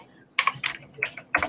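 Keys clatter on a computer keyboard in a short uneven burst of close, crisp clicks.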